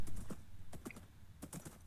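Hoof clip-clops from a horse in the video game Minecraft, a few quick hollow clopping steps in small clusters against a low background hum.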